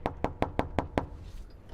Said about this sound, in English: we'll knock on the door